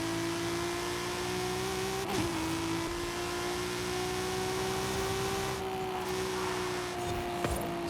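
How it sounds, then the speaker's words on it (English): A car in Forza Horizon at full throttle climbs through the gears, its engine drone loud and steady and rising slowly in pitch, with a brief shift dip and some whir throughout. "we can put our foot to the floor, hopefully hit our top speed"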